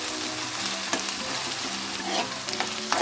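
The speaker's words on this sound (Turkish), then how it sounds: "Soğanlar suyunu çekene kadar iyice kavuracağım." Lean ground beef and onions fry steadily in a pan with a dense, continuous sizzle, broken by occasional scraping stirs, close and loud with no voices.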